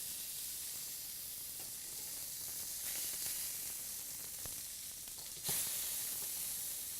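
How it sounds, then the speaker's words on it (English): A salmon fillet sizzles in a hot pan with a steady close frying hiss, and a sharper burst of spitting and crackling comes as the fish is flipped near the end. "All right, so we're ready to give our salmon a flip."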